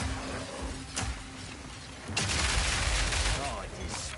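Grenade blasts in Path of Exile 2 on PS5 go off as sharp bursts, one near the one-second mark and a louder cluster after two seconds, trailing into rumbling debris and faint gunfire-like crackle.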